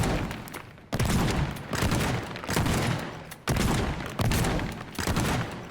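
Shotgun blasts in the video game Teardown, a rapid run of about seven loud, booming shots each followed by a rumbling tail, close and alone.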